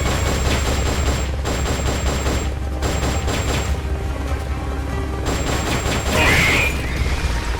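Sustained gunfire from Metal Gear Solid: Peace Walker, loud and steady rapid shooting for several seconds, broken by short pauses, with a brighter burst of noise near the end.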